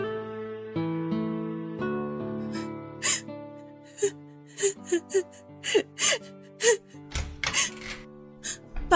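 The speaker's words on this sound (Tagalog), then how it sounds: "Narinig ko po kasi kayong umiiyak." A woman cries in a radio drama, with shaky gasping sobs and whimpers breaking out in bursts over a soft musical backing, close and fairly loud.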